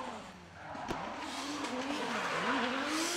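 A 2JZ-powered 600 horsepower Nissan PS13 drift car at a drift competition, its tires hissing in a long skid while the engine note rises and falls in wavering revs, heard at a moderate distance with no talk.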